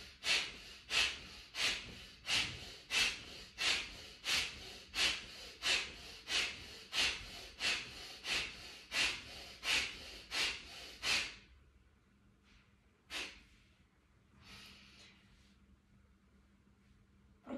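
Kapalabhati abdominal and Bhastrika chest breathing exercises: a long run of forceful, rhythmic nasal exhales about one per second, close and clear, then a pause with a few softer, scattered breaths.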